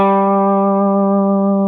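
A blues-rock electric guitar rings with one steady, sustained distorted note on the open A string. It is loud and close and lasts under two seconds, with no talking.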